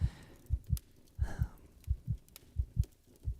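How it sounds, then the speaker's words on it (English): A close, steady heartbeat thumps in paired lub-dub beats at a quick, regular pace, soft and intimate, with a faint breathy rustle in between. "Your heartbeat always goes crazy whenever I'm really close to you"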